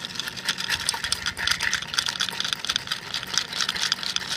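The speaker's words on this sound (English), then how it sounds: "when you spin an old fashioned, as you can see, look at the ice dissolve away" Ice cubes spun around in an old fashioned cocktail glass, making a continuous, fast, rhythmic rattling and clinking that stays close and fairly loud throughout.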